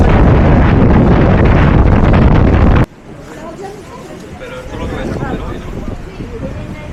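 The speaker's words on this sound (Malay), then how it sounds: "Wah, angin kuat waktu ni." Strong wind outside a mosque in Bursa: heavy wind buffeting the microphone roars loudly for the first few seconds, then drops to a gusty rush with faint background chatter.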